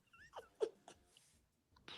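A dog barks a few times in the background, faint and distant, in short separate bursts with quiet gaps between them.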